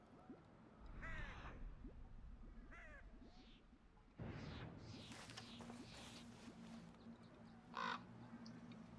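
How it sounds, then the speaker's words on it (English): A raven in the Red Dead Redemption 2 game world gives several harsh, rasping caws spaced a second or two apart over a quiet ambient backdrop, with a faint whoosh in between. "There's a raven just sitting there."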